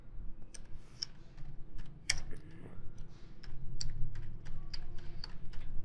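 Typing on a computer keyboard while entering text in MS Paint, a run of crisp, irregular key clicks close by, with a few sharper taps among them and a low background hum.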